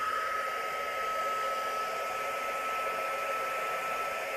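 A heat gun blows steadily over a freshly poured resin geode coaster on a beach-pour piece, a loud continuous airy roar with a faint high whine held at one level throughout, no voices.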